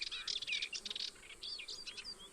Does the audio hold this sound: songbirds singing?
yes